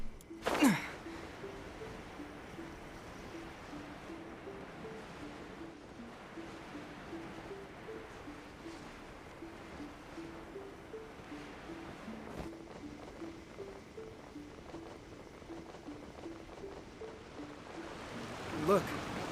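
Steady rushing water of a waterfall in Genshin Impact, a continuous broadband wash running throughout at moderate level, with a soft low melodic game score beneath and brief louder bumps near the start and end.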